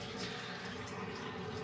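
Running tap water filling a bathroom basin up to the overflow, a steady, close, broadband rushing splash that holds for the whole brief moment.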